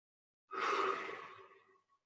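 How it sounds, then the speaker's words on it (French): A single deep breath during a yoga session at home, one soft, airy exhale that swells quickly and then fades over about a second and a half, close and quiet. "Intensifier ta respiration. Dans le ventre, inspire, expire 2-3 fois profondément."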